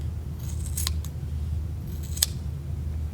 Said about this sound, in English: go through this little tunnel of loops that we've created and just cut them